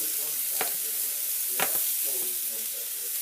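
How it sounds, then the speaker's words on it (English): Broccoli fries in oil in a pan over moderate heat, a continuous sizzle broken by two sharp scraping stirs of a utensil. "you also want to make sure you mix the broccoli with as much oil around it uniformly as much as possible"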